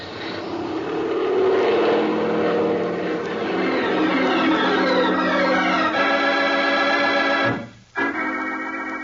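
Light airplane engine revving up hard for takeoff as a radio drama effect, a loud, steady droning roar with rising pitch that swells, then cuts off abruptly near the end before resuming.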